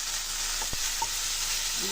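Onion sizzles steadily in oil in a hot pan for radish chutney, a dense, even frying hiss with a couple of brief stirring scrapes and clinks, no talk.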